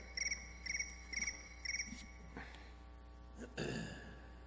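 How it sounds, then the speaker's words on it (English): A phone's cricket-chirp text alert goes off in a meeting room as four quick trilled chirp bursts in a regular rhythm, fairly faint, followed by a few soft knocks and room noise over a low hum. "if you hear a cricket, that's my text"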